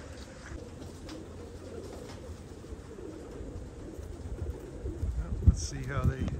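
Racing pigeons coo softly during a training toss, low murmuring calls over steady outdoor background noise, with a few louder flutters and calls near the end.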